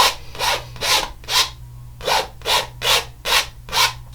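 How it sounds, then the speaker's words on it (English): A knife scrapes excess paint off a surface in about nine steady, even strokes, each a close, raspy swipe, with a low constant hum underneath. "I'm just scraping off the excess right now."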